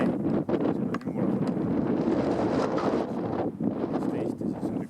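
Steady wind buffets outdoors, rushing loudly and continuously across the microphone with gusty dips, while voices talk underneath.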